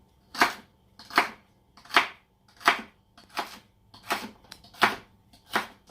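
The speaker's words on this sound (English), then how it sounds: "Now I'm just going to give it a light chop like this." A knife chops celery on a cutting board in eight crisp, evenly spaced strokes, close and clear, with no talking.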